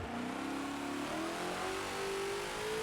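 A Ford GT40 engine in the Forza racing game drops through the gears under hard braking at Sebring, a continuous loud snarl with rising and falling pitch as each downshift blips the revs.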